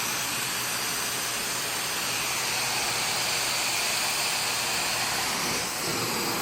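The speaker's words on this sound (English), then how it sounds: "Steaming it out, sanitizing it, removing all that soil." A carpet steam cleaner runs at about 220 degrees over carpet during a cleaning, producing a loud, continuous close-up hiss and roar of steam and suction that stays steady throughout with a slight dip near the end.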